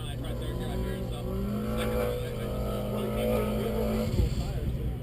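A Mini Cooper S street-modified front-drive car on an autocross run: a steady, close engine drone with rising harmonic pitch through the gears, slight tire noise, and a brief bump near the end; a commentator talks over it.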